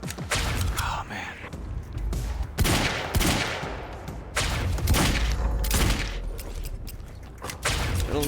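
Bursts of gunfire from a firefight against a sniper and heavy enemies in the video game Quantum Break, repeated sharp volleys and rapid shots spread across the clip, loud and close, with occasional thuds between them.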